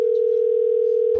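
A telephone line gives off a loud, continuous steady tone while a call is placed, then cuts off abruptly.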